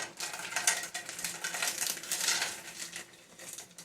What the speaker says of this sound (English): Now it's time to add the shrimp to the pot.